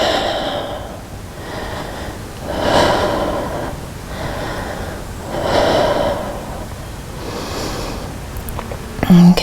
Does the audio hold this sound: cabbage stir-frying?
no